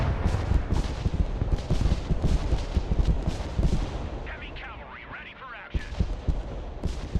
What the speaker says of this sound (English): Rocket barrage incoming! Keep your heads down! Oh, here's the rockets.